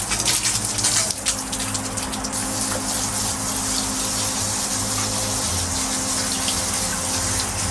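Steady gushing water from a hose or pump rinsing dirt off a freshly made-over sidewalk at a Thai village home, a constant loud wash running throughout.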